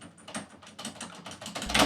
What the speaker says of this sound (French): ma barre espace grince un peu